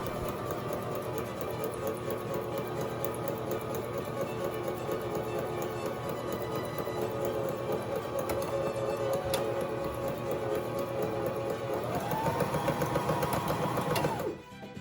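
A domestic sewing machine runs a steady, continuous straight stitch on fabric with backstitching at each point, its motor whirring evenly throughout and shifting pitch near the end before stopping.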